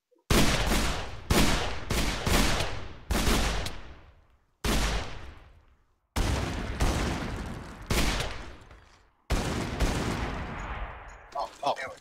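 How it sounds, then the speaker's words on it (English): A 6-shot revolver fitted with a speed reloader fires a series of loud, close shots, some in quick pairs and others spaced apart. Each crack is followed by a long ringing decay. "Apparently it's a 6-shot revolver"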